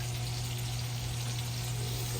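Butter sizzles steadily in a pan for hamburger steak gravy, giving a soft, continuous frying hiss at close range with no talking over it.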